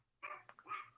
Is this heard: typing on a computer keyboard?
no